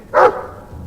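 A Mabari war dog in the game Dragon Age 2 lets out a single loud, short bark near the start, followed by a faint fading tail and quiet room tone.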